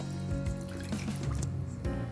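Water runs steadily from a tap or is poured into a container while exactly 20 grams are measured out, a continuous close splashing and trickling with small fluctuations throughout.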